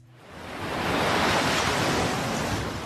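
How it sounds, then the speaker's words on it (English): Massive ocean surf crashing during a bomb cyclone storm in California, a loud broadband roar swelling in over the first second and holding steady with wind noise. "massive waves crashing into homes"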